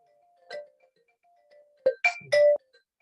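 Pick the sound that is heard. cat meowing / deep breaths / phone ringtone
phone ringtone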